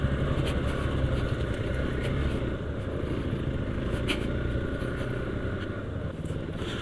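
A Hero Xpulse 200 4V motorcycle engine pulls in second gear on a rough, high-altitude off-road trail, its steady, loud rumble running close and continuous throughout with no break.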